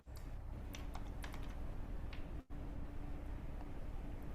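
Fingers type on a computer keyboard in quick, irregular clicks over a steady hum of room noise, with one brief gap midway.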